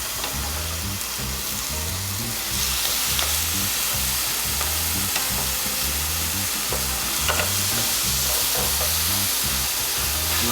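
Bone-in pork chops sizzle loudly and steadily on a CHEFMAN indoor smokeless grill, a constant close frying hiss with faint crackles and pops, under a rhythmic mechanical hum from the appliance.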